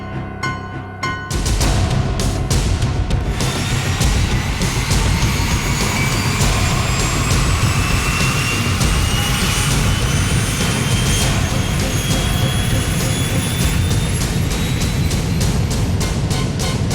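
Jet airliner engines roar steadily at takeoff power, loud and continuous, with a rising whine building over a deep rumble after a brief quieter start.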